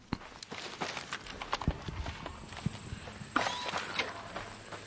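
Footsteps in a video game clatter irregularly against a busy, noisy backdrop, with hard clip-clop-like impacts and scattered mechanical clicks. No voices.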